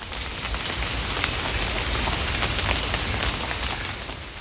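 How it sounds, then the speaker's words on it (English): Water droplets patter and drip through tree leaves in a forest just after heavy rain, a steady dense wash of fine ticks and taps with a constant high hiss, no voices. "is the sound of water droplets filtering through the leaves of the trees"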